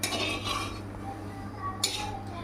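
Food frying in oil in a pot is stirred with a metal utensil, giving clinks and scrapes against the pot over a soft, steady sizzle, with one sharper clatter near the end.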